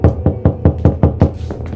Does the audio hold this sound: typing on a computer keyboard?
no